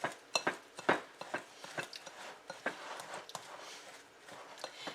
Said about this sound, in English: And so we're going to just mix this.